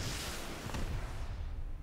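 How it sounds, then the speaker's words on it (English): A rocket explosion from an RPG in the video game Rust, using the old legacy sound: a loud, dense, rumbling blast that holds steady for over a second before tapering off. "We also have differences in explosions. So if we pull out the good old RPG,"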